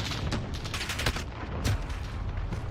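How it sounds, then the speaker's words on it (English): Rapid bursts of gunfire from the video game Modern Warfare in Ground War mode, with dense, fairly quiet overlapping shots crackling continuously. "I spawned into a guy shooting already at me"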